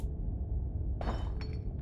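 Glass shatters somewhere outside a quiet clinic safe room in the game Scarlet Hollow: a single sharp crash followed by a short tinkle of falling shards against a low background hum.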